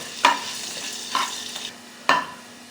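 Crushed garlic cooks in a little oil while a spoon stirs it around the pan. Three distinct scraping strokes stand out over a soft, faint sizzle.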